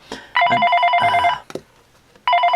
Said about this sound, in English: sorry, that was the phone